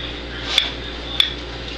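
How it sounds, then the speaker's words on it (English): A spoon knocks twice against a dish while scooping into chocolate tapioca pudding, two short clinks about half a second apart over a steady low background hum. "Let's scoop into it and see what we got"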